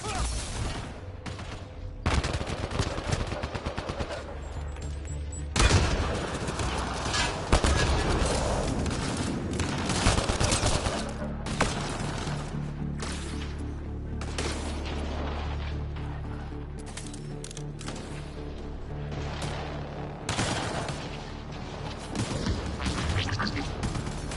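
Sustained gunfire in the video game Mass Effect, loud bursts of automatic fire and sharp shots crackling almost continuously with booming impacts, close and dense throughout.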